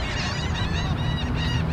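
A flock of geese flying across a cricket field in New York, honking continuously in a dense, overlapping chorus over outdoor background noise, fairly close and steady, with no voices.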